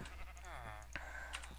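A sheep in the Minecraft video game bleats once with a wavering, quavering cry, faint under low background noise, followed by a few soft clicks.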